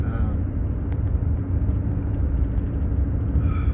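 Steady low road rumble from a car driving along the road, a continuous engine and tyre drone filling the low end throughout with no clear events.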